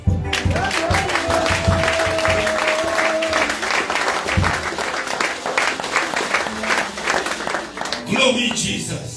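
A church congregation applauds and cheers loudly for the whole stretch, dense clapping with a voice rising over it and a brief tonal whistle or shout early on.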